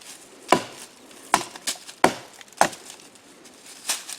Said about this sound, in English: Cut some of these little limbs here off this log.